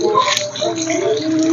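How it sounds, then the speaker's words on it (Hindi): Water splashes as two cupped hands scoop it up to wash the face, a short continuous wet rush close by with no talking. "अपने दोनों हाथों में इस तरह पानी लेना है, ठीक है, और अपने चेहरे को धोना है।"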